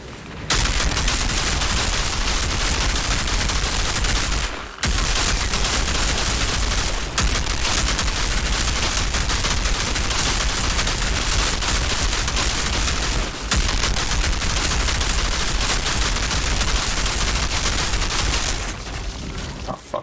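Sustained, loud automatic gunfire in the shooter game Outriders, dense bursts pounding almost continuously with a few short gaps.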